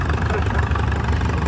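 A Harris 101 Senior Twin Power tractor engine, still on factory seal, idles with a steady, loud, low rumble and even knocking pulse, filling the scene without a break.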